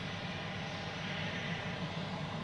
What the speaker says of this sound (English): And then we have a little private jet taxiing here.